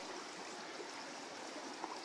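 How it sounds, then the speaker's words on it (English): Steady broadband rush of the Provo River flowing through a desert region of central Utah, a constant, fairly faint stream wash with no talk over it. "here we are at the Provo River, here in the great desert region of central Utah"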